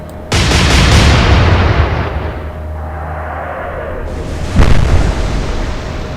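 Ship guns fire a broadside in the naval video game Atlantic Fleet: a sudden loud blast that rumbles and fades, then a second boom a few seconds later.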